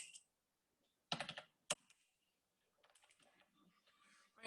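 Bursts of keystrokes on a computer keyboard while filling in an online counselling form, a dense cluster of clicks then a single tap, followed by scattered faint taps and a closing click, with no talk.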